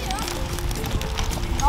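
A club horse walks with a soft, steady clip-clop of hooves, close and continuous, while a person talks over it.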